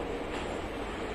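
Train in the VR video game Project Nightlight, a steady, faint rumbling roar of a carriage in motion, continuous and even with no voices.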